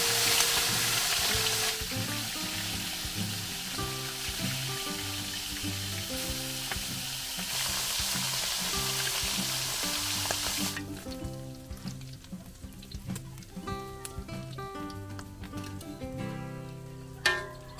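Tawilis fish fry in hot oil until crispy at an outdoor farm kitchen, a dense continuous sizzle under background music, close and steady, with a single knock near the end.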